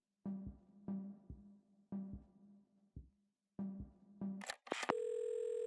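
Telephone in the Assemble with Care video game: a run of short repeated electronic beeps, then a brief rising burst and a steady sustained dial tone, clear and close.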